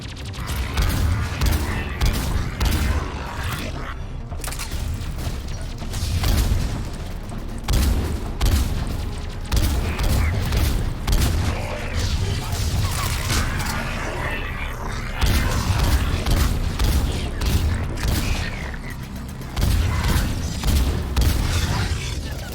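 Assault rifle fire in Mass Effect 3 combat: repeated loud bursts of rapid shots with mechanical clatter, punctuated by booming impacts and brief pauses, continuing throughout without voices.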